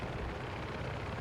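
In the video game Delta Force, a helicopter's rotors make a steady, dense whooshing roar that stays constant and close throughout the short moment, with no voices.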